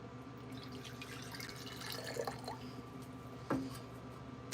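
Water poured from the pitcher spout of a ceramic mug trickles quietly, with a soft running stream and a small splashy dribble near the end.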